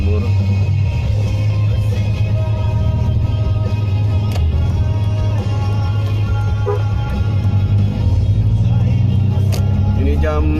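Rush-hour road traffic hums steadily, with a low continuous engine drone and cars passing and accelerating nearby, sustained for the whole stretch under an occasional voice.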